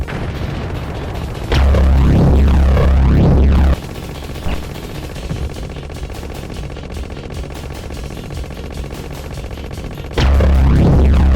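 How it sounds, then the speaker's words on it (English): Booming explosive bursts from a super bomb attack in the Contra video game, two loud, heavy blasts a couple of seconds long bracketing a stretch of rapid gunfire-like crackle and game sound, no talking. "I hit triangle to do the super bomb"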